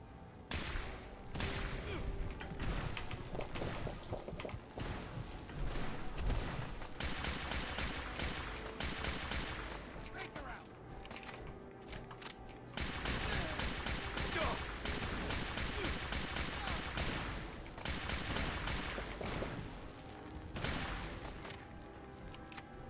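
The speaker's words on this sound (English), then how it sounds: "Tesla cannon." Tesla cannon weapon fire in Fallout 4, dense bursts of crackling, blasting discharges in long volleys with brief gaps, loud and sustained.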